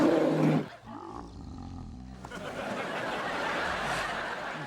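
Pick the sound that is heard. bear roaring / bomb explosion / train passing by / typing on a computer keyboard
bear roaring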